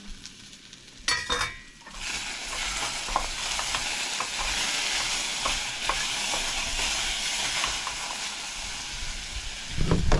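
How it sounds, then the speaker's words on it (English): Ground beef and potatoes fry in a pan at a campsite, a continuous loud sizzle and hiss running throughout, with occasional scraping taps of a utensil stirring and a louder clatter near the start and end. "Stirring things up."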